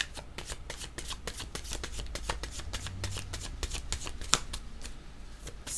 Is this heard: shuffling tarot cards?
yes